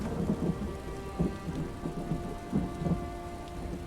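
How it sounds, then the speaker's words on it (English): Heavy rain falls steadily during a thunderstorm in Elder Scrolls Online, with a dense hiss of drops and low rumbles of thunder rolling underneath, continuous and fairly loud with no talking. "even though there's a big thunderstorm outside"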